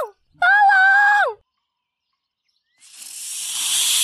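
A sharp, breathy snake hiss from an animated film rises after a pause and grows louder and sustained, following a brief high tonal cry.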